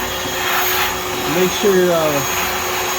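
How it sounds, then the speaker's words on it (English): A small wet vacuum sucking up water from an overflowing sink, a loud steady whirring drone throughout, with a brief spoken voice over it. "I turned on a little vacuum to suck up the water so it don't make too much of a mess"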